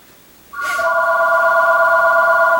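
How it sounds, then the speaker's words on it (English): A mobile phone starts ringing suddenly and loudly, holding a steady electronic ringtone tone from then on with nothing else competing. "my phone's going off for no particular reason"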